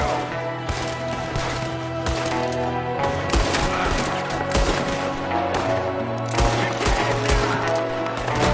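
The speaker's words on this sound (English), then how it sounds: "There's another one shooting from the window." Video game gunfire from a window during an ambush: rapid bursts of automatic shots and scattered single cracks, loud and continuous over a droning background.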